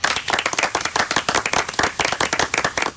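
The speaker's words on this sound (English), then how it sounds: "Round of applause for Phil." Studio applause on a radio talk show, a brisk, close round of rhythmic clapping from a few hands, loud and steady for the whole stretch with no talk.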